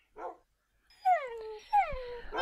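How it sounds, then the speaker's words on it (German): Minecraft dogs (tamed wolves) giving a quick yip and then two rising whining barks, close and clear with no talk over them. "Wo ist denn der rote Hund?"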